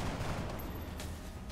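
Gunfire from the strategy video game XCOM: Long War, a dense sustained burst of shots that stays steady and fairly loud through the whole moment, with no voices over it.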